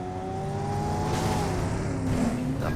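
Vehicle engine in a mobile battle royale game, a steady droning hum with rising tonal whine, fairly quiet and continuous, with no talking over it.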